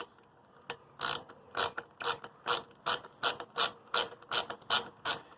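A hand ratchet clicks in quick bursts while tightening a 10mm nut on the carburetor of a Champion 27-ton log splitter, about a dozen crisp, close ratcheting strokes in a steady rhythm with no talk.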